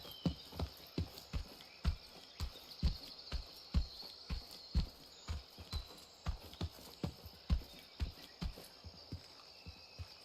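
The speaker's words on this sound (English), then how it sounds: "I hear his footsteps there." Enemy footsteps in the VR shooter Incursion Red River thud in a steady walking rhythm of about two steps per second, moderately close, over faint ambient noise with no voices.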